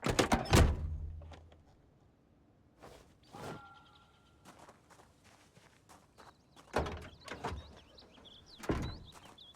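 In Project Zomboid, an unlocked house door thuds open with a solid knock, followed by a few scattered clunks and soft footstep-like taps spread over several quiet seconds.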